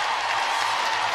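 A netball crowd at the Fast5 Netball playoff in Melbourne, England against Malawi, on its feet cheering and applauding: a dense, steady roar of clapping and voices, loud and continuous.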